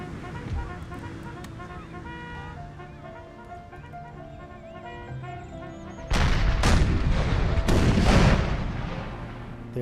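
Artillery return fire in Empire: Total War, played with the Brothers vs. Brothers mod. Thick rumbling booms and crackling volleys break in partway through, loud over steady orchestral game music.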